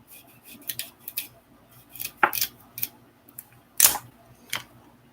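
A knife trims the ends off fresh carrots, making scattered crisp cuts and light taps on a board, fairly faint and close with quiet gaps between.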